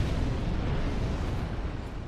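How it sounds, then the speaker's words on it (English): Exploding barrels in Dark Souls 3 blow up in a heavy, rumbling blast that fills the whole stretch, a dense low roar with no clear pauses. "They put exploders next to exploding barrels, dude."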